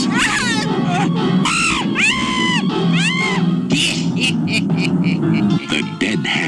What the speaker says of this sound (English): And now the screaming starts.